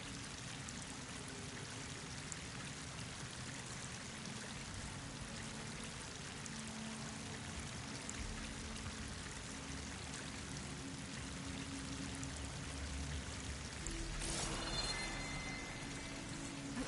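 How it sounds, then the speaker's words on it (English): A waterfall rushes in Horizon Forbidden West on PS5 with a steady, unbroken roar of falling water. It holds at an even level for the whole stretch, with a slightly brighter splash near the end. "That waterfall must be coming from somewhere."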